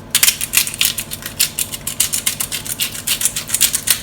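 Salt and pepper ground over sausages and apple pieces for toad in the hole, a steady run of crisp, rapid gritty clicks and crunches from the grinder, close and fairly loud, with no talking.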